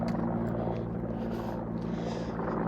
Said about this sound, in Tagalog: May helicopter na